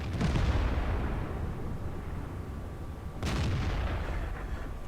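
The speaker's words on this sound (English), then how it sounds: "Try to fire on the move." Tank cannon booming in the video game World of Tanks, two heavy blasts about three seconds apart, each with a long rumbling decay over a constant engine drone.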